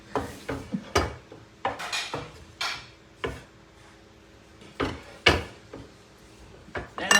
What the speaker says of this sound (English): Let me check the oven for that flat potato.